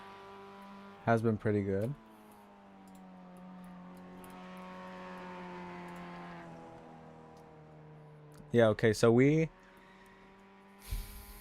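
A Mazda MX-5 race car engine at Lime Rock Park, faint and steady in the background while people talk in bursts, swelling gently near the middle before fading again.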